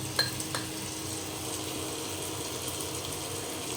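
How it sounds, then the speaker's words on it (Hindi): Masala frying in oil gives a continuous soft sizzle close by, with a few faint scrapes and clinks from stirring near the start; no one speaks. "मसाला तो एकदम मस्त मज़े से भी भून रहा है।"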